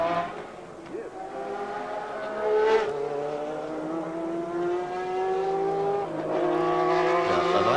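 Formula 1 car during 1990 Adelaide qualifying at the Australian Grand Prix, its engine tone steadily falling as it slows, sustained and fairly close with crowd and commentary-like voices faintly underneath.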